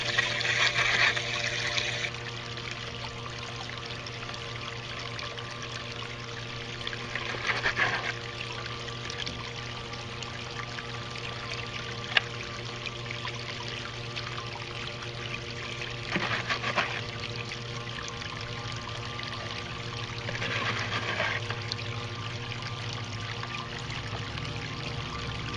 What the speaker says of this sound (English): I've reduced the water flow back to probably about 500 gallons per hour on this